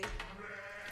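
A sheep bleats in the strategy game Age of Empires 4, one short, clear wavering bleat heard alone.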